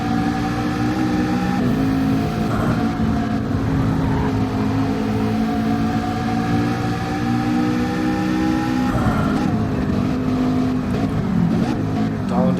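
A BMW race car in Gran Turismo 7 on the Nordschleife endurance layout gives a steady, loud engine drone whose pitch rises and falls as it drives on.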